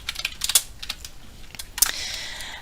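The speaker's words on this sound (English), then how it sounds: "Let's go ahead and type in the below command for step 2" Quick bursts of computer keyboard keystrokes, clicking in uneven clusters at close range, followed by a brief steady hiss, with no voices.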